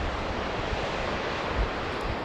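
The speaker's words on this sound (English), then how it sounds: "Massive waterfall down there." A massive waterfall in a mountain valley below Mt Elbrus roars as a continuous broadband rush, steady and full, with wind buffeting the microphone and no voices.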